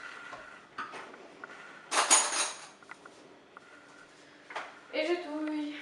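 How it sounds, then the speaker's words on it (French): A spoon stirs sauce in a dish, giving a few short scraping and clinking bursts, one louder scrape in the middle. Voices come in near the end. "Et je touille."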